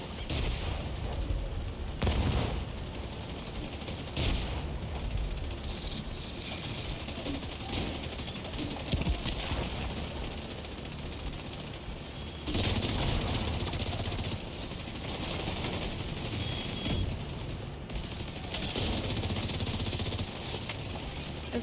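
Dense, continuous gunfire and explosions from a firefight in The Division 2, with a sniper turret firing among constant rattling shots and booms for over twenty seconds, no clear talking.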